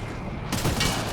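Enemy gunfire rattles in a dense fusillade during a Mass Effect Andromeda firefight, swelling partway through into a louder, sustained burst of rapid shots with a roaring, noisy background.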